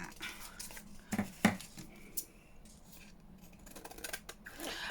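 Scissors snipping paper while making a junk journal, a few quick crisp cuts with a sharp pair of closely spaced snips near the middle, alone with light handling rustle around them.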